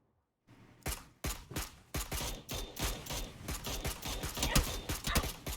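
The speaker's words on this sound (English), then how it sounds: "Shots out from Aurora." Rapid bursts of gunfire crack out in PUBG during a Premium League Division 1 esports match, a dense string of sharp, loud shots in uneven clusters with no talk over them.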